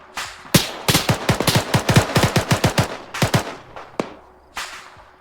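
Rapid automatic gunfire from an Arma 3 battle, a loud burst of roughly a dozen closely spaced shots followed by a few scattered single cracks and a last distant shot, with no talking.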